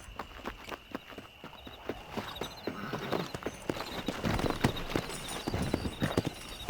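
Horse hooves clip-clop in a quick, steady rhythm as a rider gallops across open ground in Red Dead Redemption, the beats close and clear and growing louder toward the end.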